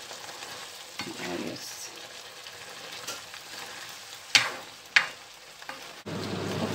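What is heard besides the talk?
stirring chicken fajita frying in a pan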